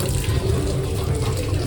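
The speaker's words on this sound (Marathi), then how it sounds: "ते हात धुवून घेऊया." Water runs steadily from a tap into a sink during handwashing, a continuous close splashing stream with no talking.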